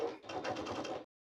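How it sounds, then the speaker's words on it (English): A sewing machine top stitching across the raw edge of a zipper tab, a short close burst of rapid mechanical stitching that stops abruptly. "We're going to go to our sewing machine and we're going to top stitch across the raw edge of our"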